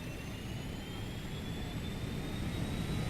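Jet engines of an airliner spool up for takeoff at Kathmandu in a flight simulator, a loud steady roar with high whining tones slowly rising in pitch, no talking.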